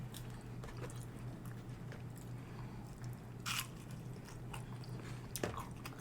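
Crunchy Denny's breakfast food being chewed up close, with irregular crunching bites and a couple of louder crunches, under a low steady background hum and with no talking.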